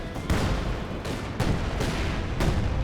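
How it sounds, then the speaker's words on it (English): Long-range AT gun artillery fire in Company of Heroes 2 booms in repeated heavy blasts about once a second over constant battle din, loud and close. "we're doing long-range artillery with the AT gun"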